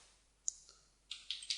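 Computer keyboard keys typed in short bursts while coding a button click listener, a lone click followed by a quick cluster of three or four crisp taps, close and quiet.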